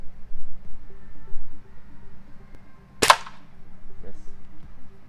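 A QB 12 compressed-air rifle fires a 4.5 mm pellet with a single sharp, loud crack, followed by a faint tick of impact, over quiet low background noise.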